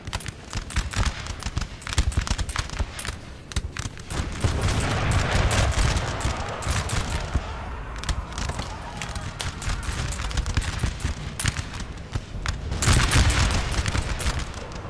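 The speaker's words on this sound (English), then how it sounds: "The artillery definitely leveled the playing field there." Massed musket volleys and booming artillery from a Napoleonic battle between French and Austrian armies in the Napoleon Total War video game, crackling continuously with heavier bursts throughout, with a voice talking at times.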